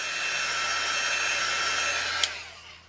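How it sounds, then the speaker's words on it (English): A heat tool blows steadily while drying Memory Mist ink on a craft tag, a continuous whooshing fan-and-air hiss, close and even, ending with a brief click as it switches off. "The only reason I'm heat setting it is it's going to dry quicker for me so that I can continue to work."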